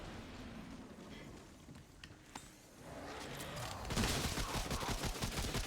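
Assault rifle fire in the game Remnant: From the Ashes, a faint stretch of rapid automatic shots that grows louder and denser near the end amid other combat noise.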